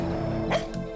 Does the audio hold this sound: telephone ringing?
no